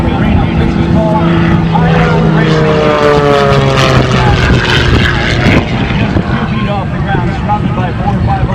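Propeller aircraft fly at the Fort Wayne airshow, a loud droning engine roar with pitch sweeping as planes pass close overhead, while a voice talks throughout.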